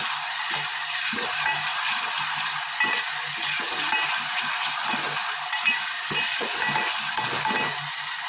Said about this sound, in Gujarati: ડુંગળી, ટામેટાં, લસણ, મરચાં, આદુ સરસ બધું મિક્સ કરી લઈએ.